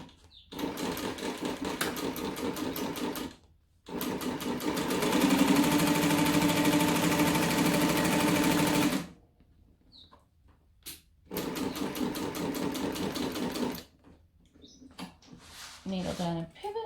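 A sewing machine stitches a bulky travel bag in several runs of rapid, rattling needle strokes, close and steady, separated by brief stops, with a person speaking in the gaps.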